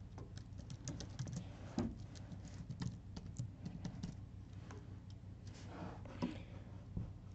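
Computer keyboard typing with quick, irregular key clicks and short bursts, faint and close, with no voices over it.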